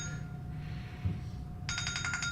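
A phone ringtone cuts in partway through a live talk show, a bright pulsing electronic ring that repeats over a steady low room hum; nobody speaks while it rings.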